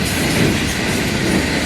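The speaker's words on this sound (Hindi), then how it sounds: "ये जा रही है रेलगाड़ी।" A train rolls past close by, a steady loud rumble of wheels on rails with a dense clickety-clack rhythm running throughout, no voices over it.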